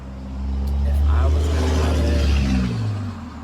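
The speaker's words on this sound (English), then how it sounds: "So sorry for any car traffic that you hear." A car passes close by a front porch, its low engine rumble swelling and then fading over a few seconds while a person speaks.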